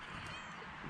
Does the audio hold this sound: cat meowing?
yes